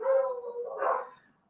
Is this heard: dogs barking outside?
yes